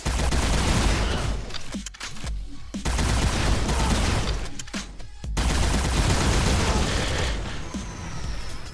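Sustained rapid gunfire from a gun in the spy shooter Agent 64 rattles loudly almost throughout, with two brief pauses as bursts stop and restart, and no talking over it.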